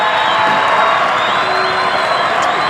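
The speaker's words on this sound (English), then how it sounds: "here comes the crowd" A basketball crowd at a boys' regional championship game cheers and applauds loudly and steadily, with whoops and shouting rising from the stands.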